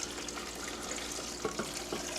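Water poured over the top of dried chiles in a bowl, a steady close splashing pour with a few brighter liquid splashes and drips toward the end, no talk.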